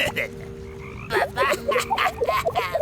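Cartoonish frog croaks from the video game Cozy Caravan come as a quick series of short, bubbly, bouncing calls, close and fairly loud, following a quieter stretch of soft game ambience.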